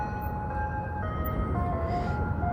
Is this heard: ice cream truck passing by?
yes